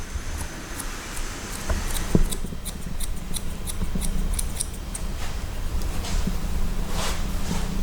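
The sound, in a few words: scissors cutting hair during a haircut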